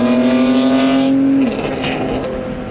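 An Acura NSX driving on the road, with steady engine drone under load and a crisp gear shift midway as the tone drops, loud and close from inside the car.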